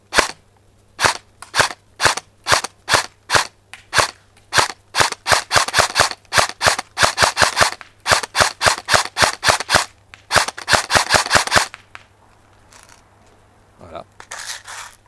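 An A&K Magpul ACR Masada airsoft electric rifle on an 11-volt 1100 mAh battery firing test shots: sharp snapping single shots at first, then quick bursts and a long rapid string, close and loud, with a brief mechanical clatter after.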